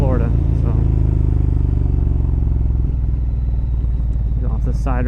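A 2012 Ducati Monster 1100 EVO V-twin thrumming while ridden, a loud, close, steady engine drone with a pulsing low rumble, and someone talking over it throughout.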